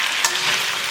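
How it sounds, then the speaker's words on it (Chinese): Bitter melon stir-fried in a wok with pickled mustard greens and ginger slices, a dense, loud continuous sizzle with a brief scrape of stirring, no voices. "再加入苦瓜翻炒， 还有我们的咸菜"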